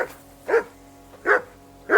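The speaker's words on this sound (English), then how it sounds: "Hey, call off that dog and then we can talk." Dog barking in the game Kingdom Come Deliverance 2: three short, punchy barks at an even spacing, close and loud, with no talk between them.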